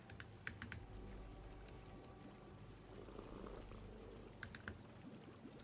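A search is typed on a computer keyboard in two short bursts of soft, quick key clicks with a pause between them. The typing is faint over a low background hum, with no speech.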